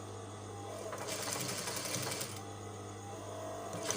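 A sewing machine stitches a shirt collar near its inner seam, humming steadily with a faint, rapid needle clatter that swells in the middle and again near the end, quiet and without talk.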